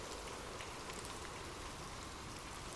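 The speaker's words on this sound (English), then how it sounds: "Imagine gentle raindrops falling softly on leaves" Gentle rain falling on leaves, a soft, steady hiss of drops without pause and no voices.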